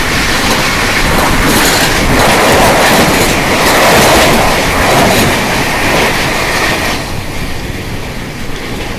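A train passing close on the Jaipur–Mumbai line, heard from aboard a superfast train near Gurla Junction, a loud, continuous roar of wheels with rapid rhythmic clatter that eases slightly toward the end.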